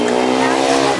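An Uber car ride in Dehradun, with a steady engine hum and road noise heard from inside the car, loud and constant across one brief second.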